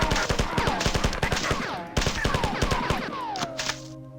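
Rapid bursts of assault rifle fire in the sci-fi shooter game Marathon, loud and close, with repeated sharp shots in quick rhythmic volleys, followed by a descending electronic whine as the firing trails off.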